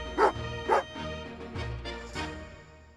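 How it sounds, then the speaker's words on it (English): A dog barks twice in quick succession, loud and close, followed by quieter growling yips over a low synthetic background hum, in the video game Genshin Impact. "Oh, angry doggy."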